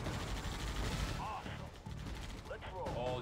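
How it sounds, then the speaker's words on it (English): A carpet bomb strike rains down in a Halo Wars match as a series of dense, rumbling blasts spread across the whole clip, with game noise and other effects layered over them. "he took the opportunity to carpet bomb"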